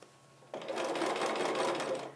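A sewing machine pieces patchwork units of a traditional Pot of Petunias quilt block, running in one steady, close whirring burst of about a second and a half after a brief quiet start, with no talking.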